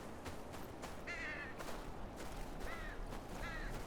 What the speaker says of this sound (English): Crows don't just circle around any old thing.